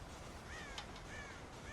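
Crows in a Red Dead Redemption farm scene caw several times in quick succession, the harsh calls fairly faint over a steady ambient background.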